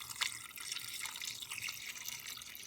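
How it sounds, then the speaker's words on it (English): Water poured from a container over chicken bones in an Instant Pot, a soft irregular splashing and trickling, faint and close, with no talking. "So you want to cover the bones generally with the water."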